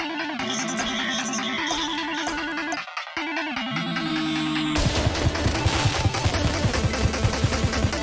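Towers and enemies firing in the minimalist top-down shooter game Rogue Defense Outsiders, a dense, distorted stream of rapid electronic shots that breaks off briefly near three seconds, then returns louder and more chaotic.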